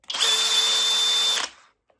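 A cordless drill spins up quickly in standard mode, not turbo, and holds a steady high-pitched whine for just over a second before winding down. Close, loud and with no voices.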